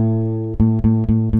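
Guitar sixth string fretted at the fifth fret and plucked, a sustained low note rung repeatedly with four sharp re-attacks, clear and close with no talk.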